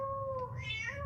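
A cat meows in an AI-generated video clip, a single drawn-out, rising and falling call heard close and clear over a low background hum, with no talking.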